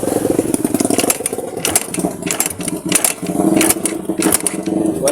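A Yamaha XTZ 125 motorcycle with a wiring fault being kick-started: repeated mechanical kicks and clattering engine turnover in uneven bursts, loud and close, without talk.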